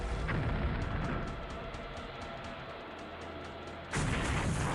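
Video game naval battle with heavy booms and rumbling blasts as torpedoes strike aircraft carriers Lexington and Yorktown and a fuel store explodes, a loud sustained roar with rapid repeated crackling and a fresh blast near the end.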